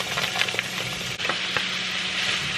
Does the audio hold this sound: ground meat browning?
yes